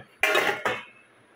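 Washed plates from the lower rack of a Midea dishwasher clatter as they come out: two short, close ceramic clinks and rattles, with quiet room tone after.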